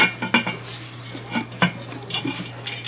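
A heavy cast iron lid clanks and rattles as it is set onto a crock pot holding Irish stew, several close metallic knocks in quick succession over a low hum.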